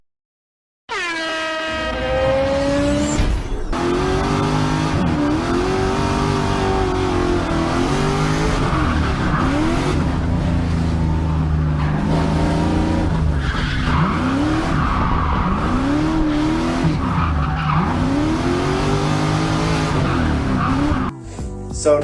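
A turbocharged Volvo 740 or 940 drifts with a loud, sustained engine roar and repeated squealing tire slides rising and falling in sweeping waves over about twenty seconds, close and continuous.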